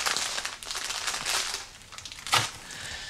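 A smashed packet of noodles crinkles and crackles as it is handled close by: a run of dry plastic rustling, then one sharper crunch before it settles to a faint rustle.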